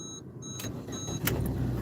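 A car's ignition chimes beep a few times before the engine cranks and catches, settling into a close, steady idle hum with a slight vibrating rumble.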